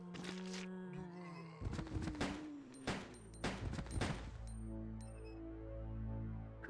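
Gunfire in Resident Evil Code Veronica X: a handful of sharp, separate shots spaced a second or so apart over a droning game soundscape, with no talking.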